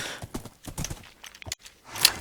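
Horses in Minecraft, close clip-clop hoofbeats in short uneven bursts, ending with a brief sharp whinny-like cry.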